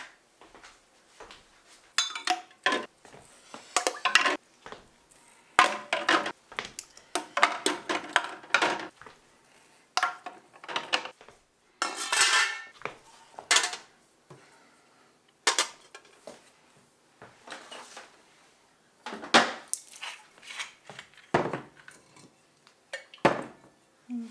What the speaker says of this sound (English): Now we put them into the pressure canner.